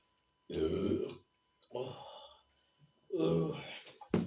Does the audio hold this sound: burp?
yes